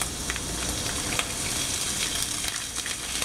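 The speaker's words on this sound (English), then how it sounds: "Now we're going to add the bulgur wheat" Bulgur wheat tipped into a pan of frying cumin seeds, with a steady close sizzle and light crackling throughout, no talking.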